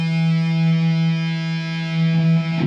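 One sustained harmonic on the low E string of an electric guitar at the 12th fret rings steadily and clearly for close to three seconds before a brief rustle cuts it off.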